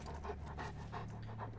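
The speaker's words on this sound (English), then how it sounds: "I can hear a dog panting" A dog pants close by in Wasteland 2, with quick, steady, breathy huffs in a soft rhythm over a quiet, humming background.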